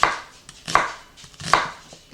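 A knife slicing through a yellow onion on a cutting board: three crisp, evenly spaced chopping strokes with soft scraping between them, close and clear with no talking.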